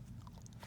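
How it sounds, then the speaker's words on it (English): A single close crunchy bite into a brown sugar cookie studded with crystallized sugar bits, followed by soft chewing. "But like the cookie itself is crunchy"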